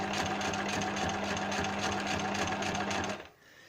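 Bernina sewing machine running a straight stitch, a fast even rattling whir with rapid regular needle ticks for about three seconds before it stops abruptly, close and loud.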